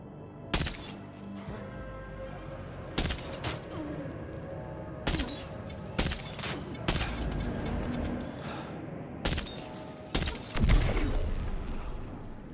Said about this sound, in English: I know that was some rapid fire